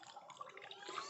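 Hot water poured over coffee makes a soft, continuous splashing trickle, faint and steady for about a second with no talk.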